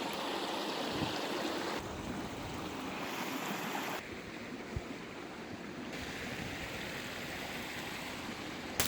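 A shallow river runs beside a handmade bridge of wooden logs, its water rushing and babbling steadily throughout, close and fairly loud, with a few soft knocks over the flow.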